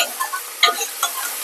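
Curry leaves and onions fry in a pan of hot oil, giving off a bright, crackling sizzle with a few sharper pops and a stirring scrape, all close up with no talking.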